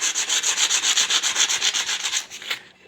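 Rapid, even back-and-forth strokes of 220-grit sandpaper over the edges of a guitar fretboard, about a dozen loud close rasps in steady rhythm, stopping near the end with no talk.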